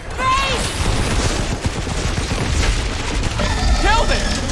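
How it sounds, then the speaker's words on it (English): Rapid gunfire and booming blasts fill a Guardians of the Galaxy video game battle, dense and continuous, with character voices and chirping effects over the shooting. "Trick was just to keep shooting!"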